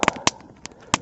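Campfire crackling outdoors on deep winter snow in the wilderness: several sharp, close pops and snaps, two quick ones at the start, then isolated bursts spaced apart over a low background.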